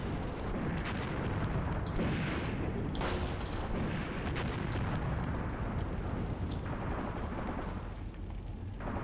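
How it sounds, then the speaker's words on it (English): Artillery fire in a Graviteam Tactics battle: a dense, continuous barrage of booming blasts and crackling bursts overlapping one another, loud and sustained throughout with no talking. "This artillery has to finish them this time"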